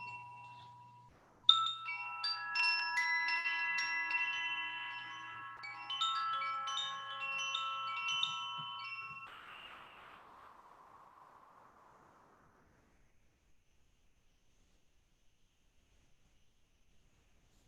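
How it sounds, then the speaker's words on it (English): A meditation chime is struck, ringing with bright layered metallic tones that sustain for several seconds, then fade slowly into a long quiet tail. "Sound the chime now as we come out of our meditation"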